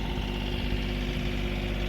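A tractor engine runs a homemade hydraulic log splitter on its 3-point hitch, idling as a steady, close, low rumble with some vibration, and no one speaks.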